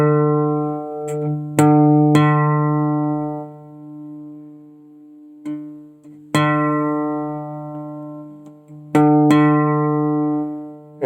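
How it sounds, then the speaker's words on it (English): Guitar notes plucked for tuning, the A string fretted at the 5th fret compared against the open D string, several ringing pairs that decay slowly, close and clear with no talking. "the A string, the 5th string, is tuning on the 5th fret, is playing a D."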